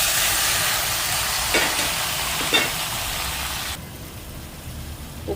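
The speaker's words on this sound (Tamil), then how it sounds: "இப்போ பாருங்க தக்காளி பழம் எல்லாம் நல்லா வதங்கி வருது." Tomatoes and onions fry loudly in a pan, a dense steady sizzle with a couple of stirring scrapes, then the hiss drops sharply to a softer sizzle near the end.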